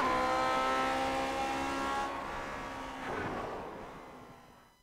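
A vintage race car in Grand Prix Legends laps Spa-Francorchamps, its engine droning steadily at high revs with harmonic whine, then easing and shifting before fading out near the end.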